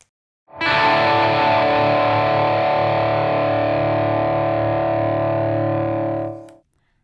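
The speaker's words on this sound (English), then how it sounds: "you just let that open E string, and you have some just rich distortion" A single open low E string rings out on a heavily distorted electric guitar, sustained loudly for several seconds before being cut off.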